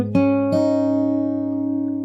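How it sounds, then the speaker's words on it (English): Two plucks of an open G string on a guitar, the second following soon after the first, ring out clean and close with a long, steady sustain. "where we start by playing the open G string 2 times."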